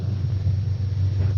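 Deep, continuous storm rumble from a 1946 film, The Strange Woman, a steady low roar like distant thunder rolling without break, with no voices over it.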